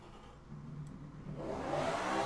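A tiny V12 car engine in the Automation video game revs up from a steady drone to a rising, louder whine, heard alone.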